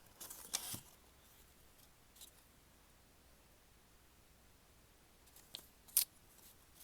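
Paper being cut with scissors in a quiet room, a couple of brief crisp snips near the start and again near the end, with a long near-silent stretch between them.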